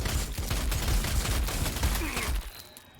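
Rapid bursts of gunfire crackle in a Warhammer 40,000: Sanctus Reach battle involving Space Wolves and orcs. The shots form a dense volley for over two seconds, then a faint ringing tail follows.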